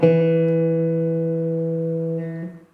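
A single plucked string on a Thai phin lute rings out clearly and sustains for a couple of seconds before fading, as if being checked for tuning to A minor.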